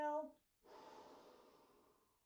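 A deep exhale at the end of a workout stretch, a soft breathy rush that fades out slowly, following a brief spoken word at the start.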